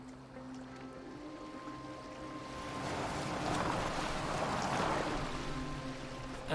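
A boat moves across water in an Assassin's Creed Valhalla game scene, with steady rushing and sloshing water and a low droning hum that swell slightly midway, no speech.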